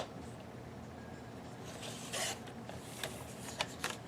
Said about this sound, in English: I'm going to trim this top just a little bit